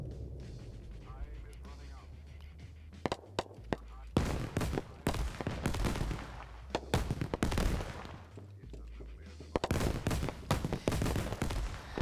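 Scattered gunshots crack in a large multiplayer PvP shooter match, USA versus Russia, as players snipe at vehicles; sharp irregular bursts over a low background rumble, with voices talking underneath.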